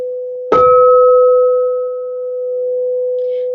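Single tone at the note B struck once, sharp attack then a clear, sustained pure ring that fades slowly, alone in quiet.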